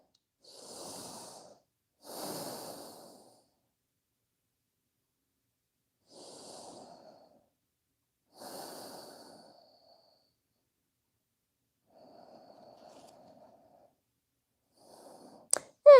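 Slow, relaxed breathing through the nose during a guided yoga stretch, with soft separate inhales and exhales spaced several seconds apart and a faint hum of voice, ending with a sharp click.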